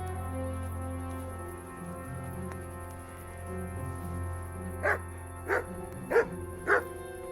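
A dog in the medieval game Kingdom Come: Deliverance barks four times at an even pace, moderately close, after a stretch of quiet night ambience with crickets.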